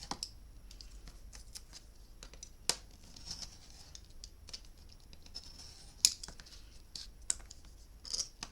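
Scissors snip a 3-inch piece from fabric scraps, a few sparse, crisp cuts with small clicks and faint rustling between them, close but quiet, no speech.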